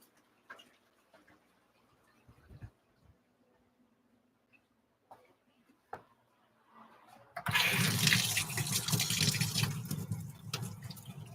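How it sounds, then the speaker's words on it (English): Hot water rushes from a tap to top off an aquarium, starting with a burst and then settling into a steady loud stream, after a few quiet clicks and handling noises nearby. "Going to put a little bit of hot water in there just so that it's not freezing cold water."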